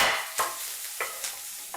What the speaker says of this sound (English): That sounds like you put your sausages down.